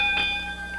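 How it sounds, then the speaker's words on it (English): A wrestling ring bell struck at the close of a classic Memphis TV match, one loud, ringing metallic tone with steady sustained overtones, close and dominant, cut off after under a second. "Referee says ring the bell."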